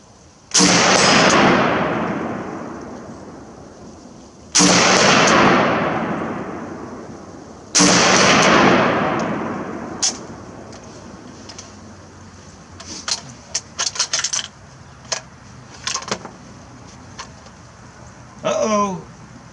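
Three loud, close gunshots from an HK 93 rifle fired outdoors on a cold day, spaced a few seconds apart and each trailing off in a long echo, followed by softer clicks and handling noises as a round fails.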